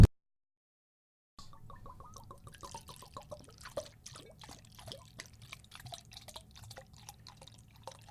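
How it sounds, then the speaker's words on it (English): Jack Daniels whiskey is poured after a moment of silence, starting as a steady close trickle with small splashes and drips that carry on quietly for several seconds. "you would add the alcohol, like so"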